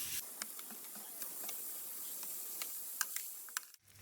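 Pork breastbone ribs for a Catalan pork stew sizzling in a hot pan, a steady, fairly faint frying hiss with scattered small pops and crackles, with no voices.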